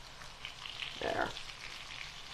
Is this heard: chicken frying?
yes